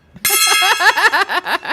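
A single gong or bell is struck to mark the end of someone's allotted time during a live tech show, giving a loud metallic clang. Its bright ringing tone swells, then pulses and decays over about a second and a half with no talk over it.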